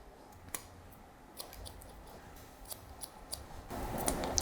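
Scissors snipping hair while shaping a textured fringe, a quiet, close series of irregular crisp clicks that grows busier toward the end, with no talk.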